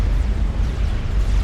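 A deep explosion rumbles in a 4v4 strategy battle game, a loud low boom that fills the whole short moment.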